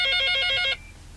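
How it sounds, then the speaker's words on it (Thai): A telephone rings with an incoming call: a rapid, trilling electronic bell pulsing in quick bursts for under a second, loud and close, then cutting off abruptly to quiet room tone. "โทรศัพท์เข้า"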